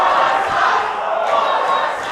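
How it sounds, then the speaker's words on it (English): Wrestling crowd at a Relentless Wrestling event taunting a wrestler after a two count, a loud massed chant of voices filling the arena, sustained throughout. "The crowd taunting Warhorse with the fact that it was a 2 count."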